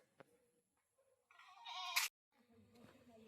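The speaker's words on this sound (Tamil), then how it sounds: "அவங்க வீட்டில் ஆட்டுக்குட்டி போட்டிருக்கு" A newborn kid goat gives a few bleats: a short faint call, then a longer, louder wavering bleat that cuts off sharply, followed by softer noises, fairly close in a quiet outdoor setting.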